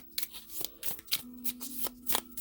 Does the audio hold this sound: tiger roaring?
no